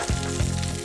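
Onions and grated ginger frying in a pan, a steady close sizzle with a couple of soft stirring knocks and no talk.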